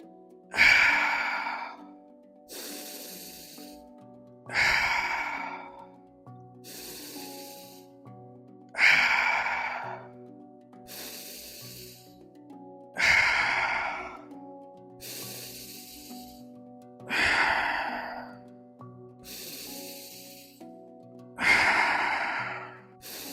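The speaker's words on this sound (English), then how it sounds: "Breathing fully in and then letting it out." Deep, slow breaths during Wim Hof breathwork, each full inhale followed by a long sighing exhale, repeating about every four seconds over soft background music.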